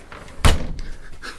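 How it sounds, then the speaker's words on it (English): A studio door shut with a single solid thud partway through, followed by a brief rattle and low room noise. "We're shutting the studio door."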